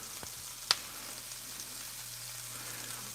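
Steaks fry in a pan alongside onions, a quiet steady sizzle with a couple of brief sharp pops and taps near the start.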